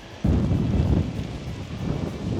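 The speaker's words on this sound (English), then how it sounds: "We're going to battle through the wind" Strong wind buffets the microphone outside a stadium in Hamburg, a heavy low rumbling roar that surges in suddenly and stays loud and gusty throughout.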